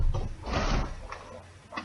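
Closet door swinging open, one cluster of soft wooden rubbing and knocking sounds, close by and moderately loud, followed by a few faint clicks.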